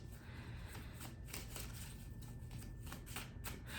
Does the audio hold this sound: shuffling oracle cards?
yes